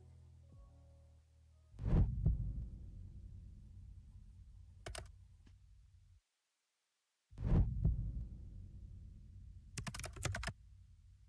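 Deep, muffled heartbeat thuds from a Grim Reaper dating game, strong pulsing bursts with a soft low throb between them, a short silent gap partway through, and faint clicks layered over the beats.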